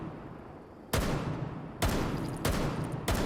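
Four sharp, loud gunshots crack out at uneven intervals in the tactical shooter Rainbow Six Siege, each with a brief decaying tail, over quiet background hiss.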